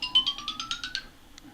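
A mobile phone ringtone or alert chimes in a quick run of rising bright electronic tones, one after another, then a single brief beep, moderately loud in a quiet lecture room.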